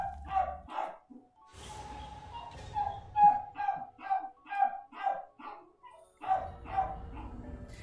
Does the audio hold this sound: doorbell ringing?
no